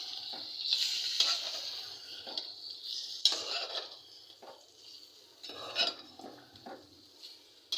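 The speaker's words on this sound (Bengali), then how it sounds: "তো গরু মাংস কষাচ্ছি" Beef being braised kosha-style in a home kitchen pot: repeated scraping and stirring strokes of a spoon against metal, with bursts of sizzling between irregular clanks, close and distinct, no talking.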